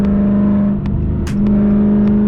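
A Dodge Challenger on the interstate, held in fourth gear at high RPM, with a loud, steady engine whine and road roar close by and a brief dip partway through.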